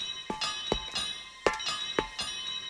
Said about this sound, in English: He heard the banging and Toby's bell.